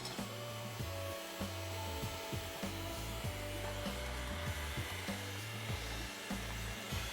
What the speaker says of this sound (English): you are going to use an electric hand mixer to beat this for about 5